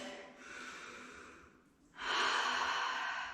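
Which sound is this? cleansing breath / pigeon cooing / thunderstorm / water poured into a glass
cleansing breath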